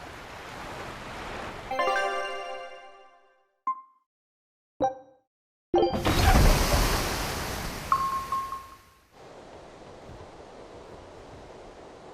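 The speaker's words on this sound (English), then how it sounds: "we're safely on the rolling waves" Ocean waves roll and wash past a sailing ship in Tales of Berseria, a broad surf-like rush that comes in bursts and fades, broken by brief silences and short tonal game sounds.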